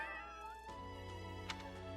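A cat meows in the Fire Emblem: Three Houses game world, a single drawn-out mew heard close and clear over a steady backdrop of game music, with no talking.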